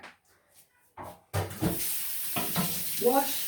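Running tap water while hands are washed at a kitchen sink during home cooking of a roast dinner, a steady broadband rush that starts abruptly after a quiet moment, with a voice speaking over it.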